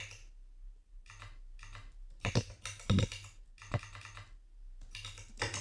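Fingers type on a computer keyboard while writing JavaScript code, with bursts of quick, close key clicks broken by short pauses and several heavier single strokes like the Enter key; no talking.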